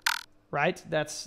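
A pitch-shifted synth sound for a drum and bass jump-up tutorial, pushed higher so it takes on a croaking, frog-like quality. It comes as short, bright bursts that alternate with talk.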